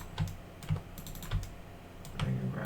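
A handful of distinct computer keyboard key presses, close and fairly quiet, spaced irregularly with short clicks and soft thuds between pauses, no voices.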